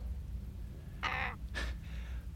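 Two raspy raven caws in quick succession, the second slightly longer, standing out over a faint low background hum with no talking.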